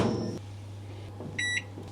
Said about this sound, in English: My microwave has a popcorn button and I've always wanted to try it.